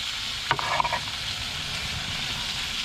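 Chopped onions sizzle steadily in a pan on a propane camp stove, a continuous bright crackling hiss with a brief clatter of stirring near the start and no talking.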